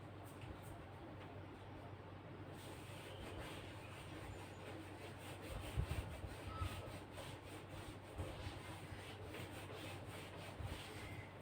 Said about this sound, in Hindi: इसको मैं रब कर देती हूं